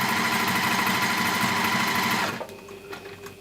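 A sewing machine with a walking foot runs steadily on a lengthened stitch through several layers of fabric for a sausage dog appliqué, a loud continuous whir that cuts off abruptly near the end, leaving quiet handling noise.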